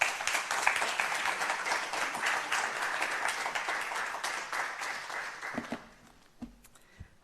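Sustained applause from an audience welcoming an author to the stage at a book talk, a dense steady roar of clapping that fades out near the end, leaving a few faint knocks and rustles.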